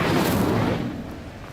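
A fiery Incendio spell is cast in the Hogwarts Legacy video game, a loud, dense roaring burst that starts strong and slowly fades over a second and a half.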